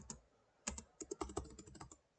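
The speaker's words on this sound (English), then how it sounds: "I'm clicking enter." Rapid clatter of computer keyboard keys, a scattered run of sharp taps with a firmer key press among them, close and fairly quiet with no talking, typed on a PC while playing Doki Doki Literature Club.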